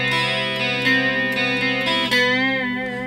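An electric guitar bends a B note, the string's pitch rising and wavering over a sustained, ringing tone with a few picked attacks along the way, close and clear with no voices.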